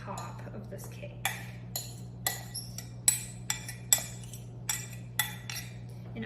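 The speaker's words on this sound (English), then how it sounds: "take our apples that have the yummy cinnamon butter mixture, mix them one more time" Apple slices coated in cinnamon butter are stirred in a bowl, a steady series of sharp utensil clinks and scrapes against the dish, about one every half second, close up.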